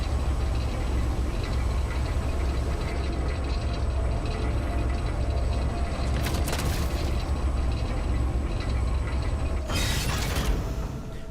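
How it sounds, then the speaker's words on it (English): Elevator machinery in Doom: The Dark Ages grinding and clanking in a dense, continuous mechanical rumble, broken by two sharp metallic crashes partway through and near the end. "Interesting elevator."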